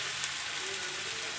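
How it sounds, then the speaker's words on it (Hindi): Half a kilo of boneless chicken frying in a pan with browned onions, giving a steady, close, even sizzle with no pauses and no talking. "और हम इसके साथ इसको अच्छे से कर लेंगे फ्राई, तब तक जब तक कि चिकन का कलर चेंज नहीं हो जाता"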